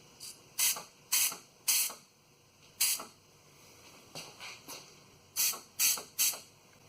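Short bursts of compressed air blown into the fuel filler line of a 2002 Chevrolet S-10 ZR2 that is slow to take fuel, about a dozen sharp hissing puffs in irregular rhythm, close and fairly loud, with no talk.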